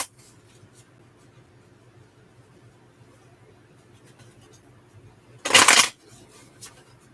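A single quick riffle of tarot cards being shuffled for a three-card draw, a short crisp burst near the end of an otherwise quiet indoor stretch.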